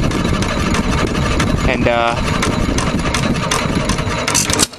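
A 1921 Hercules 1 1/2 hit-and-miss engine with a Webster magneto runs close by with a steady, loud chugging rhythm, and someone speaks briefly over it.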